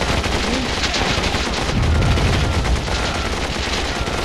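Continuous gunfire shooting up a factory in the real-time strategy game Warzone 2100, a dense, steady barrage with a low rumbling swell near the middle, loud throughout and without pauses.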